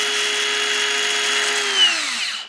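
A cordless angle grinder whines at steady high speed after the trigger is pulled, then its pitch slides down as it spins down and stops, loud and close with no talk.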